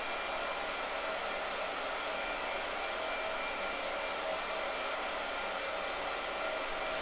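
A hair dryer blows steadily at close range, giving a loud, unbroken whooshing hum with a faint motor whine that holds the same level throughout.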